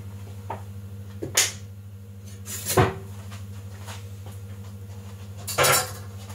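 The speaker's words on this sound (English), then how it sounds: "Let's give this pan a little swirl" A pan of oil is swirled on a hot stove for potato salad, giving a few sharp metallic clanks and knocks spaced apart over a steady low kitchen hum.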